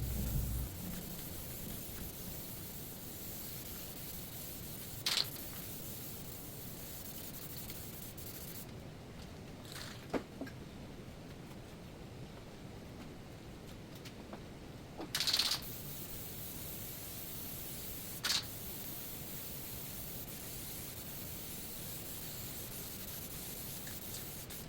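An aerosol spray can hisses in a few short bursts while black paint is sprayed on motorbike body panels, the bursts spaced several seconds apart against quiet background hiss.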